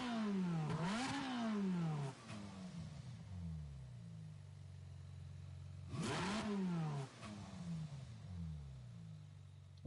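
A worn car engine in Gran Turismo 7 revs hard twice, each run rising sharply and then falling back to a steady drone, loud and close with no talking.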